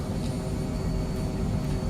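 Steady jet engine drone from an Embraer Phenom 100 on final approach in Microsoft Flight Simulator, a constant low roar with a faint high whine, even and unbroken.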